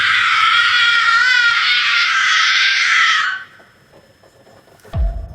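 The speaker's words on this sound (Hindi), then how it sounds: "इसी दौरान एक नहायत खौफनाक औरत की चीख सुनाई दी।" A woman's shrill, sustained scream of terror lasts about three seconds, then cuts off into near silence before a single dull thump.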